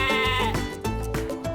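A Batur sheep bleats repeatedly and loudly at close range, with wavering, nasal cries that follow one another in quick succession.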